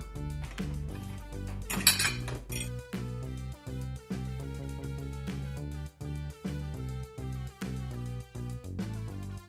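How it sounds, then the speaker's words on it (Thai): Utensils clink and scrape against a bowl as ingredients are mixed while oil heats, repeated bright taps and rattles heard close, set against steady background music. "ตอนนี้เรารอให้ น้ำมันร้อนเราก็มาผสมส่วนผสมกันเนาะ"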